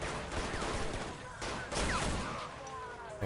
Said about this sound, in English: Taking sniper fire from a warehouse.